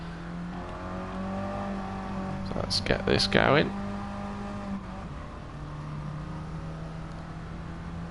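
A race car rolling out of the pits at Interlagos in a racing video game, its steady engine drone building slowly with a brief louder rev, under someone talking throughout.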